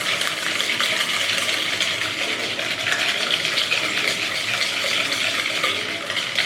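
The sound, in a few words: whisking sugar into a mixture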